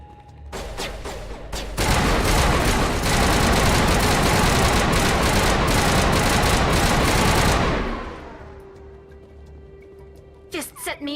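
Sustained automatic gunfire roars in a firefight in the video game Mass Effect Legendary Edition, opening with a few separate shots, then a dense, loud burst lasting about six seconds before dying away into a low hum and faint clicks.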